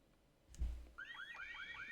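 A home burglar alarm in The Sims 4 goes off with a rising, repeating electronic siren after a dull thud, steady and fairly faint.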